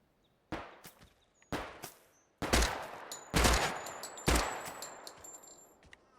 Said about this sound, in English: How are you shooting at me,